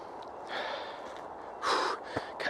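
Out-of-breath gasps and puffing from a walker on a Lancashire hill climb at Nicky Nook, two or three heavy breaths close to the mic over steady outdoor hiss.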